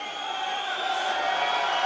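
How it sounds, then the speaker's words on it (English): Crowd at a 2017 European Weightlifting Championships 85 kg session voicing displeasure at a decision, a broad steady roar of murmuring and jeering voices filling the hall, continuous and moderately loud. "The crowd are not happy because they think their man's been hard done by"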